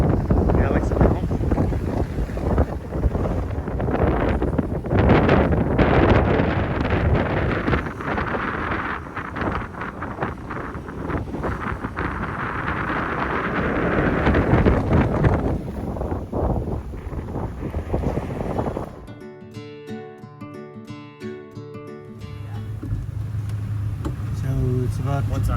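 Strong wind blows at sea aboard the sailing ship Eye of the Wind in a 19–20 knot northeasterly, a loud continuous rush and buffeting against the microphone with hull and water noise underneath, briefly dropping out near the end.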